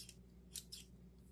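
Scissors snip through craft material, a few quick soft cuts close by in a quiet room, the two middle snips sharper than the first.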